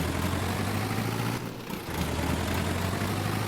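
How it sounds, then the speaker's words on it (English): Vintage Ursus tractor engine in Farming Simulator 22, a steady low idling drone with a constant hum, dipping briefly near the middle before resuming at the same level. "Mighty Ursus. This is a great tractor as well."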